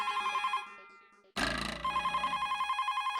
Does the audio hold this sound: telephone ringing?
yes